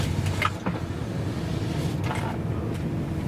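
An electric power window on a Chrysler Cordoba at a car auction whirs in a steady motor hum, with a couple of short clicks and thumps near the start and end, close by and without talk.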